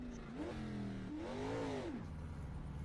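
A car engine in a racing video game revs up and down in smooth rising and falling sweeps, the pitch lingering high between throttle blips in long rev hang, fairly quiet with no voices.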